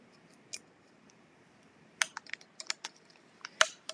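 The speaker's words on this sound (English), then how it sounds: "Just scrape it all the way around." A scraper rubs over adhesive vinyl and transfer tape in short, sharp scratchy strokes, sparse at first and then a quick burst of close, dry rasps with quiet gaps between them and no voices.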